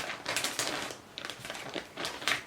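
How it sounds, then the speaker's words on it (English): Plastic project bag holding knitting yarn rustling and crinkling close by in quick irregular bursts, soft and alone. "Sorry about the rustling."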